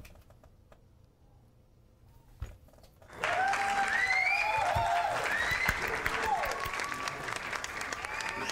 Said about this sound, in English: Do we have a sound effect for applause?